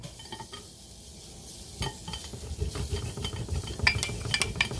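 Shallots stirred into risotto rice in a hot pan, a steady low sizzle under scraping stirs with a few clinks of utensil against the pan, louder toward the end.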